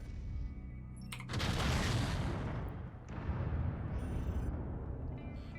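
Missiles fire from a mech in the MechWarrior 5 video game in two loud, rushing, roaring volleys, the second following a short dip, over a constant low rumble, with no voices.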